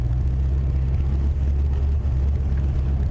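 A car with a 5.0 V8 and Flowmaster exhaust rumbles steadily in a deep, droning tone, close and loud, with no break across the moment.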